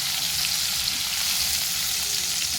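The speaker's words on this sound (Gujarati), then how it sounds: "ટમેટાને થોડીક વાર સાંતળી" Tomatoes sauté over low heat in a pan, giving a steady, close, even sizzle throughout with faint stirring and no talk.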